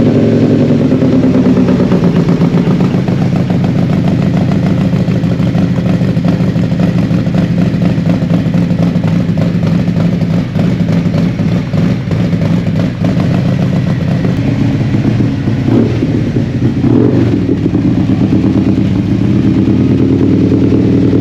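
A Harley-Davidson motorcycle engine runs loud and close, a steady, rough, lumpy idle with clattering mechanical texture and a few revs blipping up briefly near the end.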